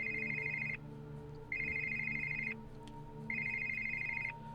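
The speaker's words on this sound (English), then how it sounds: "waking up to a tune of an old cell phone ringtone" An old cell phone ringtone plays inside the Vampire The Masquerade video game, a bright repeating electronic tune in three even bursts with short gaps, heard over a steady low musical background.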